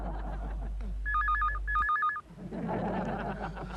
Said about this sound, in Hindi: फोन जरूर कोकी का होगा